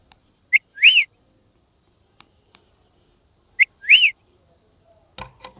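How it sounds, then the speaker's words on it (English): A parrot gives two sharp, whistling calls a few seconds apart, each a quick rising-and-falling squawk, loud and clear against near silence, followed by a brief rustle. "Parrot."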